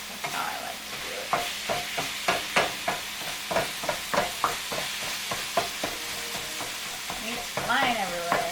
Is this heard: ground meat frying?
yes